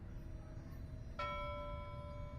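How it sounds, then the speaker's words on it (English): A single dinner bell in the video game Pyre gives one bright, clear strike that rings on with a long decaying tone over a low background rumble. "Ring the dinner bell."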